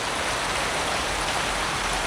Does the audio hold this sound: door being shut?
no